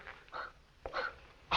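Dogs with cut vocal cords in a London vivisection clinic, several short hoarse, strained yelps and whimpers, close and fairly faint, coming in quick separate bursts.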